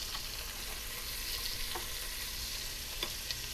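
Chopped onion and stew meat browning together in a pan for beef stew, giving a steady close sizzle with a few faint stirring clicks and no voices.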